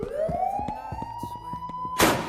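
A police siren wails upward and holds a steady high tone, loud and close, over rapid clattering footsteps, ending in a sudden crash-like burst of noise.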